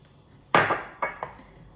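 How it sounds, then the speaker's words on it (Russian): A utensil knocks and scrapes against a bowl while a seasoning mixture for Armenian lahmajoun is stirred: three sharp clinks, close and clear, with quiet gaps between them. "Теперь мы перемешиваем."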